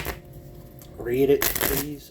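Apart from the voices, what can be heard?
shuffling tarot cards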